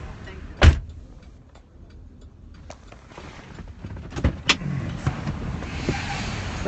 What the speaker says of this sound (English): I'm going to get out of the car and come to the other side and open the door for you